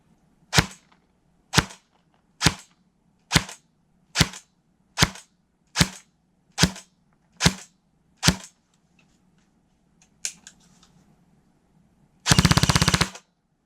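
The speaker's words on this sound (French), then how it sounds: "On fait le test de tir de l'AK-105 Custom de la marque Arcturus." An Arcturus AK-105 Custom airsoft rifle fires outdoors: about ten crisp single shots evenly spaced roughly a second apart, a couple of softer stray pops, then a short, loud full-auto burst.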